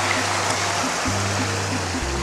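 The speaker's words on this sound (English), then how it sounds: "So this waterfall over here is adding a lot of water to Fish Creek." A waterfall in Rough Canyon in the Superstition Wilderness spills into Fish Creek, making a loud, constant roar of rushing water close by, with a faint repeating low hum underneath and no talk.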